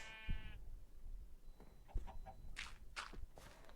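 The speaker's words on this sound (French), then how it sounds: "Mouton, mouton, mouton." Sheep bleating in a video game, a short quiet bleat at the start followed by soft footstep-like thuds and faint game sounds, with no talking.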